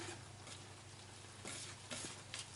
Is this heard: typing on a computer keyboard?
no